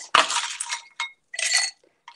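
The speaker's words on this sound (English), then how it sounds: "I'm going to add a little bit of ice in this cup," Ice cubes are dropped into a glass for iced coffee, giving a sharp clinking clatter followed by two shorter rattling bursts, close and fairly loud with no talking.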